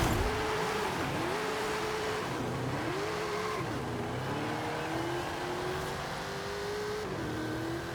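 An FWD American classic car in a racing game strains its engine in a steady, continuous drone. The wheels spin on the spot and the revs rise and dip in repeated waves, with a faint tire whine and no talk.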